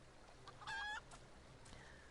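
Rooster in the video game Final Fantasy XIV, a single short, faint cluck-crow burst amid quiet background ambience.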